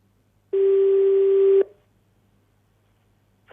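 A phone call to Azhar Shah gives a single steady busy or ringback tone that holds for about a second and then cuts off, followed by near silence with a faint low hum underneath.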